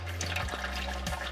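Gear oil dribbles from a drain plug in a steady, close trickle, a continuous wet liquid stream with faint splashing and no talk.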